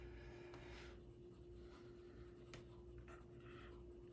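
Pencil scratching across paper in quick scumbling strokes while drawing, a soft, close, continuous rasp with small bursts of scribbling over a faint steady hum.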